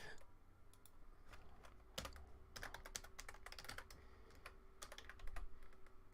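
Someone types on a computer keyboard in irregular bursts of clicks and key taps, fairly close, with a steady faint hum underneath and no talking.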